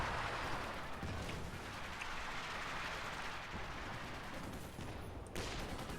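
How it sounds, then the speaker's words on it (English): Sniper and small-arms gunfire in the strategy video game Company of Heroes, a dense continuous crackle of distant shots blending into a rain-like roar, steady and fairly faint. "Also got Sniper opening up on fire on that Raketen."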